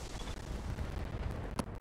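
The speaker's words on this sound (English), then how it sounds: "chemical ammo explosion that destroyed the engine" In the BattleTech video game, a chemical ammo explosion destroys a mech's engine. The audio is a dense, rumbling barrage of blasts and gunfire, with a couple of sharper cracks near the end.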